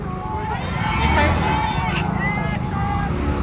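A motorbike moves through a dense religious procession crowd while water is handed out, its engine hum rising and fading under loud crowd babble and voices.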